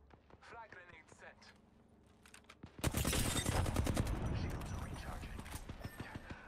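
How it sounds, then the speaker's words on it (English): Video game gunfire in Apex Legends, with a burst of automatic shots that turns into a loud, dense barrage of rapid fire partway through, close and sustained over game sounds. "They're shooting at me."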